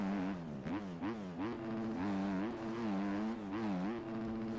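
Motorcycle engine in the MX Bikes motocross game, a loud continuous whine rising and falling with repeated revs and gear changes, no talk.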